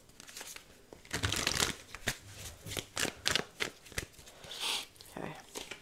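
Tarot cards being shuffled and drawn for a Cancer reading: a run of close, crisp riffling and flicking bursts with brief pauses between, fairly loud and uneven in rhythm.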